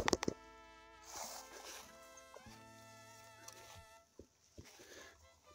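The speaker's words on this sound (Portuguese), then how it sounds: "Hoje até tem bastante abelhas de ferrão, mas normalmente predomina são as abelhas sem ferrão" Stinging bees buzz among ora-pro-nobis plants, several droning buzzes of varying pitch passing close by and overlapping, with brief gaps and faint rustling between them, and no talk.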